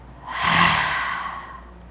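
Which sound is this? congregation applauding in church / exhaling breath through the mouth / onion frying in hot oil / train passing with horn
exhaling breath through the mouth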